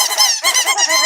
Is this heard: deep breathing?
no